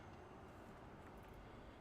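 A train pulling into a station in a video game, a steady broadband rumble and rolling wheel noise heard alone at moderate volume throughout, with faint high squeals near the end.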